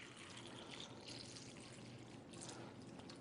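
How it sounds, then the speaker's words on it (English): Tap water is poured over tomatoes in a bowl, a soft, steady splashing and trickling that runs without a break and stays faint and close, with no talk over it. "we're just going to simulate that by pouring some tap water in here"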